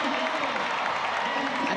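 A large stadium crowd at the World Athletics Relays in Gaborone, Botswana, cheers for Senegal after their relay team qualifies, a loud, steady roar of applause and voices filling the whole stretch.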